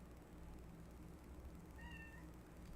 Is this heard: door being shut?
no